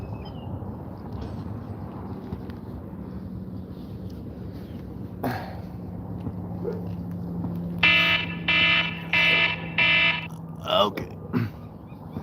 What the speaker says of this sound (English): Timers are going off, y'all.